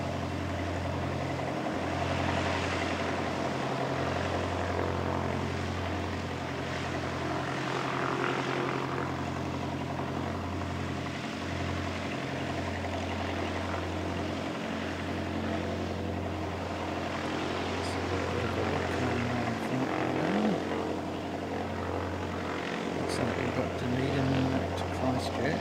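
An Emirates Airbus A380 airliner flying a go-around at an airfield, heard as a steady, broad engine roar with a low droning hum throughout, under people talking nearby.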